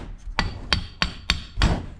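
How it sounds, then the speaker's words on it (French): A hammer strikes about five sharp metallic blows to knock a part off a Raphaël Géminiani Mobylette moped under restoration, spaced unevenly in a small workshop. "2-3 coups de marteau"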